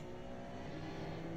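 Corvette engine in a racing video game, a loud continuous roar rising as the car accelerates, steady and close with no pauses.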